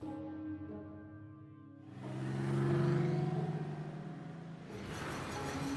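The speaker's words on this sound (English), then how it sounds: "You continue to accelerate, but the truck stays put." In the game NORCO, a stuck truck's engine revs up from a low hum into a strained, rising drone, dips, then surges again as the vehicle fails to move.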